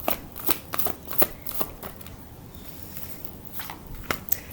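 Tarot cards are shuffled close up in quick papery riffles and taps that come in uneven bursts, with short pauses between them.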